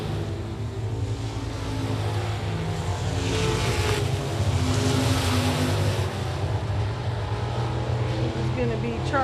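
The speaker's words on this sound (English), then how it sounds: "the 2 yellow cars coming around" Race cars circle a dirt speedway oval at Big O Speedway, a continuous loud engine roar that swells as the cars pass, with a race announcer talking over it throughout.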